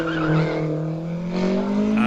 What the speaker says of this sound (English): As David Morris in that beautiful ERA goes across the front here